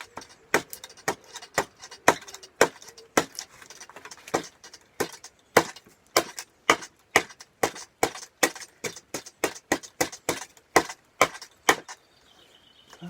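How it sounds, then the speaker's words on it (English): Repeated sharp knocks of an axe back-axing into a wooden kuksa bowl as it is carved out, about two strikes a second, close and crisp, with brief pauses between bursts and no talk. "where now you can actually back what's called back axing into the Kuksa"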